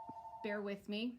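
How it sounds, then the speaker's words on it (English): A mobile phone rings in a retail flower shop: a steady tone for about half a second, then a louder two-part ringtone with layered tones, while someone briefly talks over it. "my phone is ringing"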